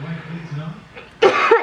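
A single harsh, close cough from a man cooking keto spaghetti in a kitchen, coming abruptly after a stretch of low talking.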